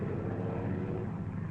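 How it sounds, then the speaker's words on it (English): WWII bomber planes drone steadily overhead as they return at dawn from a raid, a low continuous propeller-engine rumble, moderately distant and without talk. "One by one, the planes came home in the dawn."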